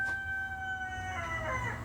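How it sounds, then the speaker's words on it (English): A pet rooster crows in the background, a drawn-out call, moderately faint and distant, over low room noise. "that's Stan in the background. If you can hear him, he's my rooster."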